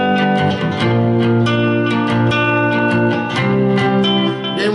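Lap steel guitar sounding a B flat with the bar at the sixth fret, a sustained harmonic-rich tone with several restruck notes and gliding slides, played alone and up close.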